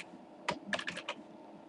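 A computer keyboard is typed on while writing CUDA code, a short burst of about five quiet clicks after a single keystroke, close and alone.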